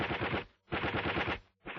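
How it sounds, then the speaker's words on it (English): Enemy machine gun opening fire in a WWII British Army infantry training exercise, two long rapid bursts of loud rattling automatic fire separated by a brief gap, with the start of a third burst. "The enemy machine gun now opens fire"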